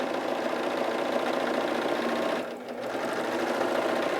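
A Husqvarna Viking Huskylock S-25 serger sews a long flatlock stitch, running a steady close mechanical hum with a brief dip partway through; no talking.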